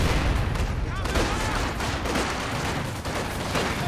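Machine gun fire and other small arms crackle in a dense, continuous battle din in Company of Heroes 2, loud and busy with overlapping bursts and distant booms, with a voice talking over it.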